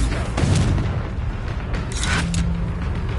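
A Confringo blast spell from a Harry Potter video game, a dense low booming burst with crackling debris layered over continuous battle noise and music, fairly loud throughout.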